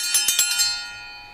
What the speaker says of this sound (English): Let us ring the bell.